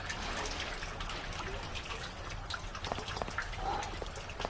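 Steady wash of water and rain in the Vampire Rain video game, a constant trickling, splashing bed with scattered droplet ticks, fairly faint and continuous with no talking.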